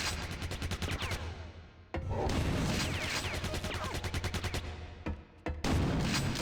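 A Quake 2 Tank enemy fires in dense, rapid bursts of gunfire in a video game, loud and close, broken by a couple of brief pauses before the shooting resumes.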